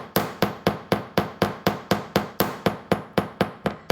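Twenty-gauge wire is hammered to flare the tip of a wire-wrapped butterfly wing, giving a steady run of about fifteen sharp, evenly spaced metallic taps, close and alone.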